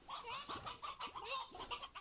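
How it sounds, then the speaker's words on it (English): Chickens in a video game, a close, busy string of short clucks and squawks packed together over a couple of seconds, with no voices. "Chicken."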